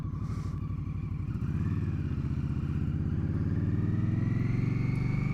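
A 2021 Indian Scout Bobber motorcycle pulls away, its engine rumbling in a steady throbbing pulse that builds in pitch and loudness as it accelerates, close and continuous with no talking.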